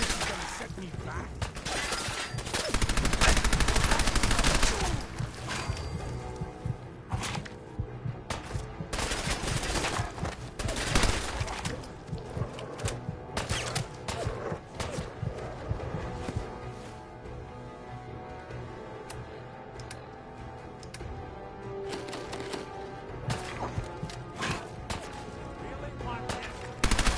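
Fallout 4 gunfight with repeated close shots and rapid bursts firing throughout, mixed with clanks, impacts and other game sounds, and a heavy cluster of fire early on.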